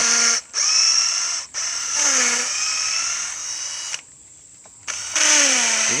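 An electric drill bores into a wooden tool handle in several bursts of high whining spin, each slowing in pitch as it bites, separated by short pauses.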